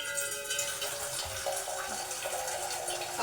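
Water running from a tap into a vessel for making tea, a steady close splashing stream lasting throughout with a brighter gush at the very end, no voices.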